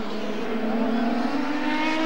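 Indycar race car from the 1993 season at full throttle, its engine holding a loud, steady high-pitched scream that climbs slightly in pitch, close by and uninterrupted.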